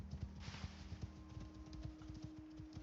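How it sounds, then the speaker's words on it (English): Horse hooves clip-clopping on a ridden horse in a video game, a quick steady rhythmic patter of thudding hoofbeats, fairly quiet and continuous, with a low hum beneath and no voices. "we're just using the horse for travel"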